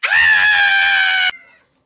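One loud, sustained high-pitched scream held for just over a second, then cut off abruptly with a short fading tail.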